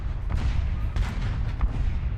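Tank guns fire in an American ground forces combat video game, heavy booming shots over a constant low rumble of engines and battle, loud and dense throughout.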